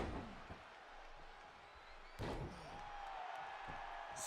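A wrestler is slammed down onto the ring mat, giving one heavy thud partway through, over a low hum of crowd noise.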